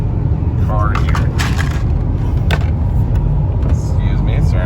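A moving car's cabin fills with a steady low road rumble and engine drone, overlaid by crinkling and snapping as cardboard and plastic are handled inside.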